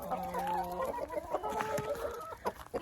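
Chickens cluck and a rooster crows in a winter chicken coop, several birds close by with overlapping calls and harmonic crowing, busy and continuous.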